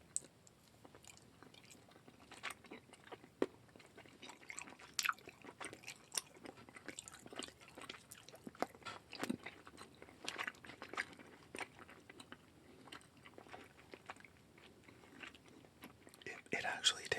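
Lemon-flavored gummy palette jelly candy being chewed close to the mic in a quiet whispering setting, soft wet squishes and small crunchy bites repeating irregularly, faint and intimate.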